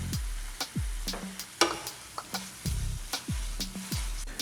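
Chopped nettles seasoned with salt and pepper sizzle and reduce in a pan, a steady close hiss broken by repeated scraping stirs and the dull knocks of a utensil against the pan.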